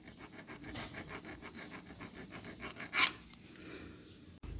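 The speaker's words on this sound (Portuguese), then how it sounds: "Aquela rebarba que tinha aqui eu tirei, limei ela" A hand file rasps steadily back and forth across a burr on a Honda Titan 125 camshaft, an even run of strokes that stops abruptly, followed by a sharp clink and a faint knock.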